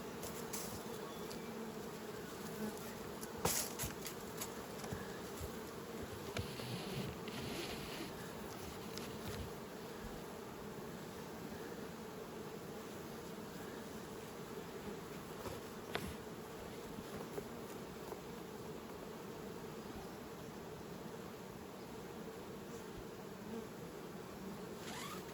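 Honey bees hum densely around an open beehive during spring nucleus hive work, a steady close buzz with individual bees darting past the ear, continuous throughout with no talking.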